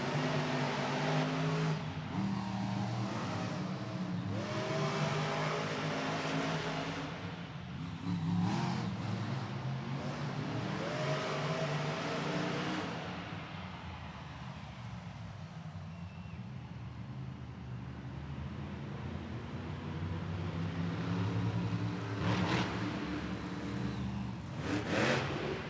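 Monster trucks in a side-by-side Monster Jam racing pass at a Tacoma, WA arena, engines roaring and revving continuously with loud, harmonic-rich drone that surges and eases over the run, echoing under crowd noise.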